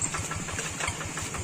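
Close, steady chugging from a tractor engine as it rolls down a very steep hill, evenly spaced knocking beats at a quick idle-like pace, moderately loud and alone without speech.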